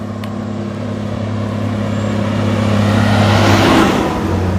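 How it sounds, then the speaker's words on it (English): A city truck drives past on a street, its engine a loud low rumble with a steady hum that swells as it draws near and then tails off slightly. "Looks like a city truck coming."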